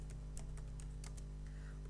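Quiet, irregular clicks of fingers typing on a computer keyboard, several separate keystrokes scattered across a low steady background hum.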